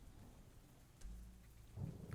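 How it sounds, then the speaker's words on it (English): Deep thunder rumbles from lightning striking a tree in Cleo: A Pirate's Tale, a low boom swelling midway and a louder crack near the end over steady rain. "The lightning struck directly into this tree."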